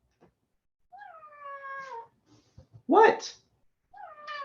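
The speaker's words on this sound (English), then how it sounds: "My cat is unhappy." A cat meows unhappily in drawn-out, wavering cries, two long complaints separated by a brief spoken word and a louder burst, with another meow starting at the end.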